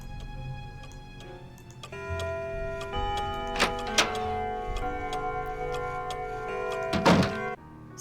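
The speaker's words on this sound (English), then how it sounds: "Same grandfather clock chime that you hear in Curse of Blackmore Manor" A grandfather clock in a Nancy Drew haunted-mansion game ticks steadily and chimes in rich, sustained tones, with a few sharp knocks over the ringing.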